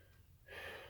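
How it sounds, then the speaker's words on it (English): A patient at a head-to-toe physical assessment draws a deep breath, a soft quiet inhalation that swells into a breathy rush halfway through. "Take a deep breath in and out"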